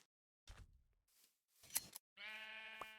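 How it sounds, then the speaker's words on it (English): Short Minecraft sheep bleats come in quick bursts, with a few soft game sounds between them and a sustained, wavering bleat closing the sequence, all clear and close against a silent background. "Oh, there is another sheep over there."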